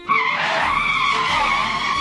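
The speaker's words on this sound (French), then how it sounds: "Le crissement des pneus lui rappelèrent cette dure réalité." Car tires screech loudly as the car skids into a spin, a sustained harsh squeal that rises sharply and holds steady throughout, close and dominant with no voices.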